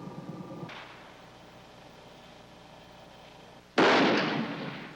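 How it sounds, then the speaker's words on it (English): A high-powered rifle bullet is fired into a Master Lock from 40 yards, one sharp loud crack near the end that decays quickly, preceded by a quieter thump and low background hush. "is going to aim and shoot right into this lock in exactly the spots you asked for"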